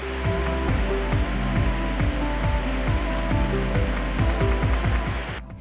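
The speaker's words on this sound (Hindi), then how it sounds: "जैसे कि आप देख सकते हैं कि बरसात शुरू हो गया है" Rain falls in Sikkim as a steady, dense hiss that holds through the whole stretch, with a low droning hum running beneath it.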